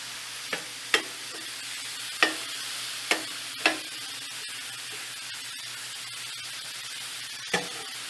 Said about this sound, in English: Now let these onions sweat.